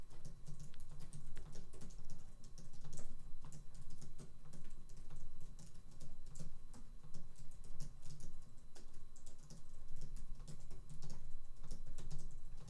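Steady, rapid typing on a computer keyboard, a dense run of close clicking keystrokes that continues without pause for the whole stretch, in a fast speed-typing session.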